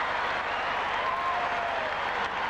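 Basketball arena crowd at the Forum during the 1984 NBA Finals, Celtics at Lakers, a steady loud roar of cheering and applause filling the whole moment without a break.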